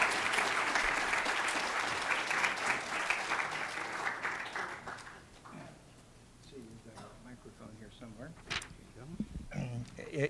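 An audience breaks into loud, sustained applause as two speakers are welcomed to a talk. The clapping thins out and fades over several seconds, followed by scattered voices and room noise.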